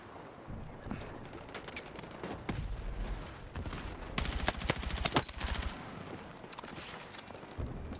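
Rapid gunfire from the Helldivers video game, bursts of shots clattering close and loud, thickest in the middle stretch and thinning toward the end.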